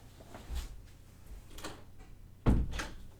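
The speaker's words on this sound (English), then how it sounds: "Just had to close the door." A door swung shut with one firm thump partway through, after a couple of softer handling bumps, indoors during a four-player Power Grid board game session.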